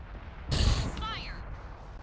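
Tank cannon firing in World of Tanks, a single deep booming blast followed by a rumbling tail and a brief whistling sound.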